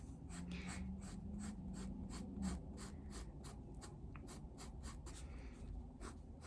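Pencil shading an eye in a portrait drawing, worked in small circular strokes: a steady, close scratchy rasp of graphite on paper, continuous and rhythmic throughout, alone with no talking.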